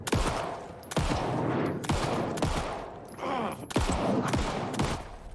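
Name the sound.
rifle gunfire in the video game Alan Wake II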